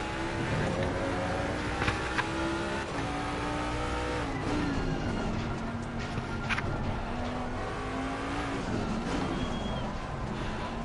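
Race car engine in a console racing game, running a lap on track with low tire pressure, holding a steady loud drone that rises and falls through gear changes and revs, with brief tire squeals over it and no talking.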